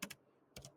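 A few quick keystrokes on a computer keyboard, two clicks, a short pause, then two more, soft and close with no talking.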